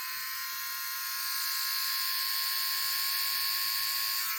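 A bald man's electric shaver from a cheap Temu haul runs with a steady high buzz close by, alone and continuous, growing slightly louder partway through.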